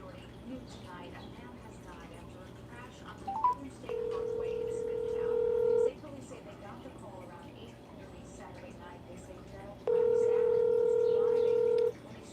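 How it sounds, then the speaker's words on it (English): Two long steady telephone dial tones, each about two seconds, sounding over a continuous low background hum with a brief chirp just before the first. "I'm trying to call you on the phone."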